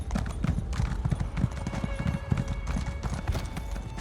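Horse hooves clip-clop at a steady riding rhythm while a mount travels in Elder Scrolls Online, with soft ambient music beneath and an occasional faint whinny.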